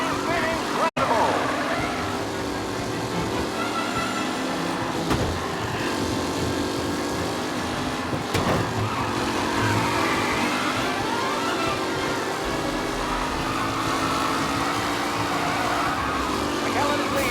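Race cars in a race in Mafia Definitive Edition roar continuously with shifting engine pitch and occasional sharp transients, a dense steady racing drone running the whole length.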